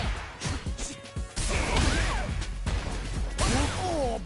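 Street Fighter-style fighting game attacks, a spin knuckle and a medium kick, land as sharp whooshes and heavy smacking impacts in quick succession, loud and close, with a commentator's voice in the background.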